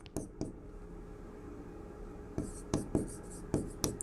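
Chalk or marker writing on a board during a biology lesson, with short bursts of scratchy strokes: two quick marks early, a pause, then a run of five or six clustered strokes near the end. No speech is heard.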